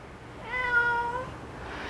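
Five-year-old calico tabby cat named Pumpkins giving a single clear, drawn-out meow, close and fairly loud over a low steady background hum, no talking.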